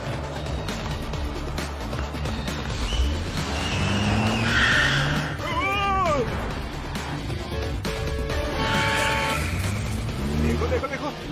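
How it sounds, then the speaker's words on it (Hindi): A car skids with squealing tires while being driven recklessly, the screech rising and falling over steady engine and traffic noise, with music and other sounds mixed in. "कैसे अंधों की तरह गाड़ी चला रहा है?"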